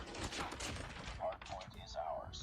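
Rapid gunfire bursts from the Call of Duty: Mobile video game during a Western Europe regional esports playoff match, dense shots early then separated bursts, heard under excited casting commentary.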